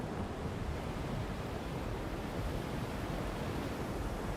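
Ocean waves churn in a storm at sea, a steady, loud wash of surf and wind roaring continuously without break or voices.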